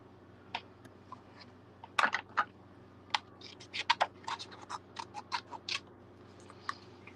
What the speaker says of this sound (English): I'm just going to cut little sections off this in case I need more later